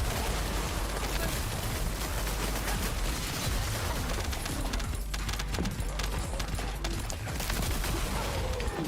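Rapid bursts of automatic gunfire and impacts from The First Descendant shooter game, dense and continuous across the whole stretch with loud, layered combat noise.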